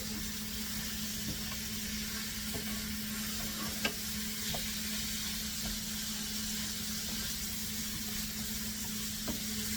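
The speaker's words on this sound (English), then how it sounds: "we're going to mix this until the meat is cooked" Spiced lamb stirred and fried in a pan, a steady sizzle and hiss with occasional scrapes and taps of the utensil against the pan, continuous and close.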